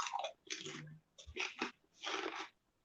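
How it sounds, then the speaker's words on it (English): A crunchy snack being chewed close to the microphone, with several loud, crackly bursts of bites and chewing broken by short pauses. "The crunch for them was louder than your voice."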